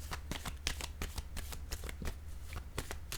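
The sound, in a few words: tarot card being placed down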